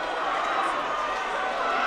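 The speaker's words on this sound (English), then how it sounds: "This has to be one of the better crowds of the year for a varsity duel." A dense crowd cheers and roars steadily at a high school varsity wrestling dual between Mountain Vista and Chatfield, a loud, continuous wash of voices with no break.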